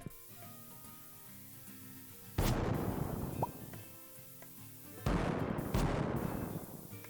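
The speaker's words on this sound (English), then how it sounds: "I'm gonna put down cherry bombs." Cherry bombs going off in the Stardew Valley video game, with two loud, sharp blasts that boom and fade out, the first at mid-clip and the second near the end, each standing clear of a quiet background.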